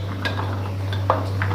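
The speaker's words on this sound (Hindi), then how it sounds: "अब ये इसके ऊपर चने डालेंगे।" Boiled chickpeas dropped onto a potato chana chaat, a few soft close clinks and scrapes of a utensil against a dish over a steady low hum, with no talking.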